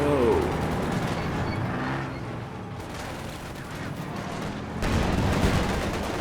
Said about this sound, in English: Nice shot on those guards by the Panzer J